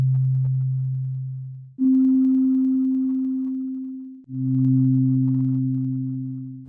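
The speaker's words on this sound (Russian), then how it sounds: "То есть, когда струна колебалась целиком, когда она колебалась половинкой, и потом два эти звука сложены вместе." Pure synthesized tones model a vibrating string: a low fundamental hum, then a steady tone an octave higher for its second harmonic, then both sounding together, each entering abruptly and decaying slowly.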